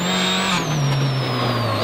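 Citroën C4 WRC rally car on tarmac in Catalunya, engine howling loud and close with a falling pitch as it slides through a tight left-hander, tyres scrubbing, just before a heavy impact.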